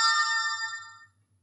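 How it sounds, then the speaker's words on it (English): A Fantime K8 smartwatch rings after its find-device button is pressed, giving a single bright, multi-toned electronic chime that sustains and then fades out within about a second, alone and close. "you press that and it will ring on the watch"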